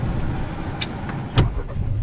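A car pulls away slowly on a slope while turning during a driving lesson, with a low, steady engine rumble and a brief louder bump midway. It runs close and continuous, with no talking.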